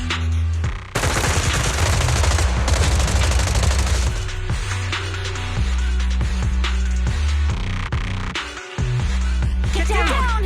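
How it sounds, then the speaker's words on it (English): Sustained suppressive gunfire in the Zenless Zone Zero video game, a dense loud barrage of rapid shots rolling on for about ten seconds with heavy low booms and a brief lull near the end, accompanied by game music. "Gunfire? This pattern. Suppressive marching fire."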